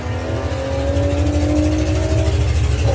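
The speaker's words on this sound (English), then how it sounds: "Green light drag race." Volkswagen drag racing cars launch off the line at Bug Jam at Santa Pod in 2021. Their engines roar loudly and build steadily over a deep rumbling drone.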